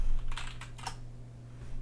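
Keystrokes on a computer keyboard during setup of Linux Mint, a short cluster of quick clicks over a steady low hum, then quieter.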